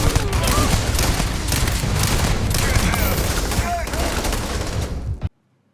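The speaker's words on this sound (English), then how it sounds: "Gun sound here is awesome, and it's pretty close to getting into the pantheon of best video game shotguns." Shotgun fire in the sci-fi video game Starfield, a dense, continuous barrage of loud blasts and booms layered over each other for about five seconds before cutting off abruptly.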